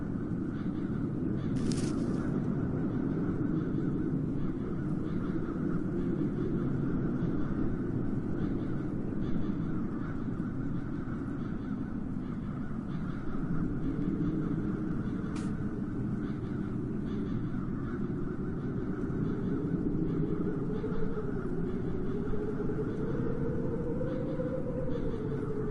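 Crows caw over a steady low ambient drone in the video game The Dark Eye: Chain of Satinav, the calls sparse and fairly distant, with nobody speaking.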